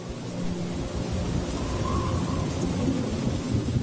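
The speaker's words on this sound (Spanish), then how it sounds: "Fue una tormenta monstruosa" Hurricane Katrina storm: heavy, steady rain roars over a deep, continuous thunder rumble, loud and close, with no voices.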